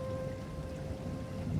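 Soft, steady rain falls on a rainy village night, a faint even patter with a light hiss and no voices.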